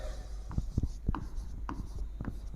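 Marker or chalk strokes on a board during a lesson, a series of short scratchy taps and squeaks in an irregular rhythm, close and clear, heard alone without talk.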